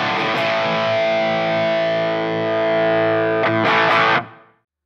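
Electric guitar run through an MH Pedals Tone Slave pedal into clipping, a loud sustained distorted chord ringing for several seconds, a second strum near the end, then a quick fade to silence.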